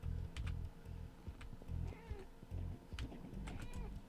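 A pet cat meows near a lap with quick repeated vocal bursts while a low rumbling hum and clicking keyboard taps run underneath throughout.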